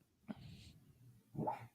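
A sleeping dog, apparently dreaming, lets out two soft whimpering vocalizations, a brief one then a longer whine-like breathy sound, faint and close against a quiet room.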